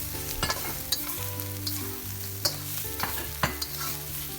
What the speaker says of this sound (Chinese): 然后不停地翻炒